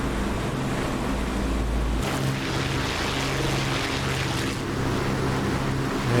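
A de Havilland Mosquito FB VI twin-engine bomber in the DCS flight simulator drones steadily with a loud, dense engine roar, heard close from the cockpit during a night bombing raid under flak.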